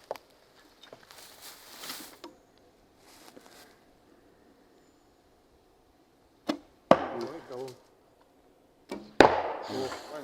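Arrows strike a target outdoors near an old log cabin, each one a sharp, loud thwack with a brief rattling tail, two clear hits several seconds apart after quieter shuffling.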